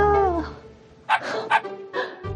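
A puppy being fostered, named Bbangsik, gives several short, sharp yips and barks nearby, in quick bursts separated by brief pauses, after a whimpering start.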